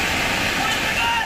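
Floodwater rushing across a road in Assam during heavy monsoon rains, a loud continuous roaring wash of water that stays dense and steady throughout.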